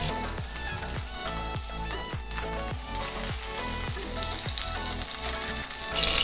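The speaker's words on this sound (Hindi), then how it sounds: "सिवैयों का अब हम तड़का बनाएंगे।" Steady crackling sizzle of vermicelli frying in hot ghee, continuous and close, with occasional soft stirring scrapes and no talking.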